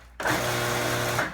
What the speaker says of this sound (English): I like to pulse chop it because then I have control over the texture